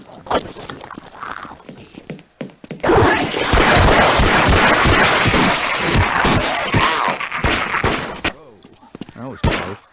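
Rapid bursts of gunfire in the 1998 video game Half-Life, a dense sustained barrage of shots in the middle of the stretch, with quieter scattered shots before and after and a voice talking over parts of it.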